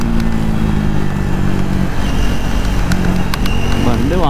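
A motorcycle engine drones loudly and steadily while riding, with rushing wind and road noise throughout, and a rider talks over it.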